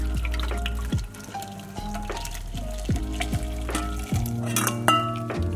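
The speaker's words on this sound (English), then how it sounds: "If you're using loose leaf tea, then you want to strain it out" Loose leaf tea strained into a cup, with clinking of a strainer and cup plus trickling liquid and drips throughout, close and fairly loud, no voices.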